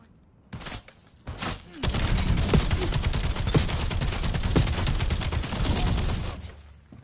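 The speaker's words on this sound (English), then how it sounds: "Incoming fire." Sustained enemy gunfire in Call of Duty: Black Ops 7 Zombies, a dense loud fusillade of rapid shots with occasional heavier thumps lasting several seconds before trailing off.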